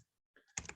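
Keys tapped on a computer keyboard while entering a URL during a coding workshop, a short quiet burst of a few close clicks after silence.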